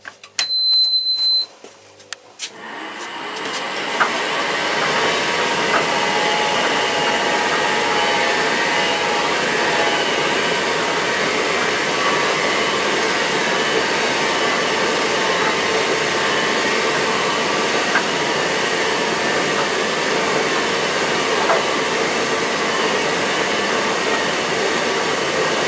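Tumble dryer on a turbo dry setting for synthetics: a few beeps and clicks at the start, then the drum and fan spin up into a loud, steady, broadband whooshing rumble that holds constant for the rest of the run.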